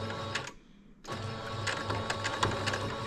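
Sewing machine back stitching blackout curtains for a truck camper shell, a rapid mechanical whirring stitch run that pauses briefly, then resumes steadily with clicking needle strokes.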